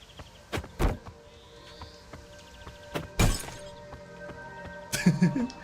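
A run of antique pots being smashed in the video game Bygone Dreams: several crisp ceramic breaks at irregular intervals, with a cluster of clattering fragments near the end, set against quiet game background tones.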